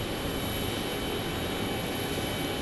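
A jet airliner departing runway 26 at Phoenix Sky Harbor airport gives a continuous, steady engine roar, broad and fairly loud throughout, with no talking.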